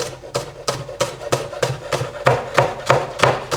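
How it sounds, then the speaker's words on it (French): Knife chopping spring onions finely on a cutting board, about a dozen crisp, evenly spaced chops in a steady rhythm, close and clear with no talking. "Tout d'abord, 2 oignons nouveaux que je vais hacher assez finement"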